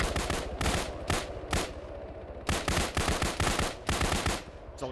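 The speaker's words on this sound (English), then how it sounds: "What are you shooting at, Thade?" Machine-gun fire in the military video game ARMA: several sharp bursts of rapid automatic shots with short pauses between them, loud and close, no talking.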